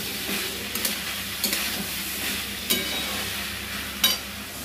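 Soybean curry with spices being sautéed in a pan, a continuous close sizzle broken by several sharp clanks of a spatula against the pan, with no talking.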